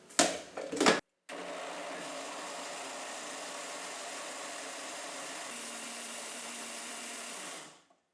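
A kitchen blender whirs through fruit pulp mixed with water, starting after a couple of short bursts and a brief pause, then running at a loud, steady drone for several seconds before winding down.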